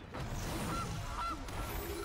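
A goose honk sound effect plays as a Gilded Goose card is played in MTG Arena, two short honks over steady game background noise, no talk.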